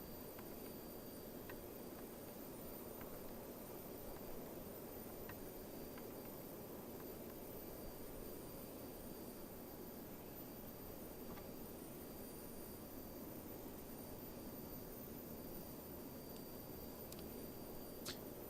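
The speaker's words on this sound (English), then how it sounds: "once the fuel's on, we fire up the engines" Four Avro Vulcan jet engines spooling up in Microsoft Flight Simulator 2020, heard as a steady, even roar with a faint high whine running through it, constant and fairly quiet throughout.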